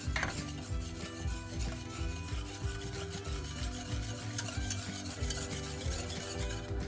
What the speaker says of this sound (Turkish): Suyumuzla şekerimizi ocağa koyduk. Şimdi iyice şöyle eritiyoruz.